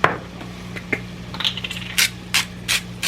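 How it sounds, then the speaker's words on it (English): Salt and pepper sprinkled over hamburger meat and chopped onion in a pan, a few light crackling taps and short shaking bursts over a steady low kitchen hum, no talking. "Now I'm going to drop some salt and pepper in there"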